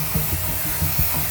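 A spray can of plastic primer hisses steadily as it coats plastic pieces, a continuous close, loud airy spray with slight pulsing and no pauses.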